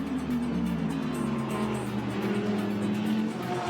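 Lamborghini GT race cars at the Spa circuit during the Total 24 Hours of Spa 2020, including an orange Triple F car, give a steady, loud engine drone with a shifting tonal pitch that holds throughout.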